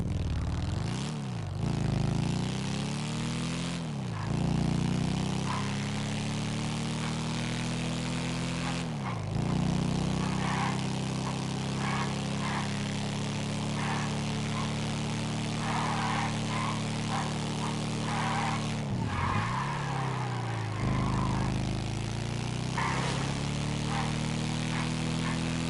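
Engine of the Zombie Chopper, a motorbike in a video game, droning steadily throughout with rising and falling revs and a few sharp dips, loud and continuous.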